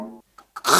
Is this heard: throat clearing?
yes